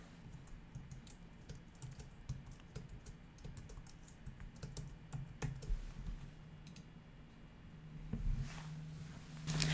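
Soft, quick keystrokes on a computer keyboard as a license key is entered, irregular bursts of clicks heard close and quiet with short pauses between them.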